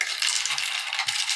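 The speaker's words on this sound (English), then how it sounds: "I'm just going to draw up the 9 total chits and just draw it." Cardboard game chits for the board game Enemy Action Kharkov are shuffled and drawn, giving a continuous close, bright rustling and clattering with small irregular peaks and no speech.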